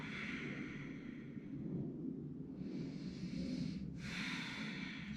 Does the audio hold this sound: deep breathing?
yes